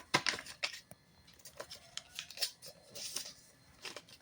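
Paper creased and folded by hand into a paper rocket, a run of crisp crackling snaps and rustles in uneven bursts, close and fairly loud with no talk.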